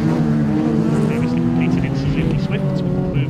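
Rallycross Minis, BMW Mini race cars in a BTRDA Rallycross Championship round, roar past with a steady loud engine drone and brief tyre noise, under continuous commentary.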